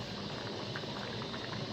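A pot of potato curry bubbles steadily at a boil, a dense continuous hiss and crackle of simmering liquid with no voice over it.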